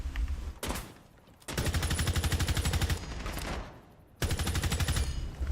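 Automatic gunfire in the Rainbow Six Siege shooter, fired in several loud rapid bursts with short pauses between, each burst a tight, evenly spaced rattle of close shots.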